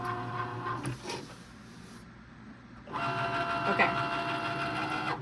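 A Cricut Maker cutting machine slices a faux leather slim bifold wallet, its motor whirring steadily in a mechanical hum that drops away mid-clip and returns louder, with a brief spoken word near the start.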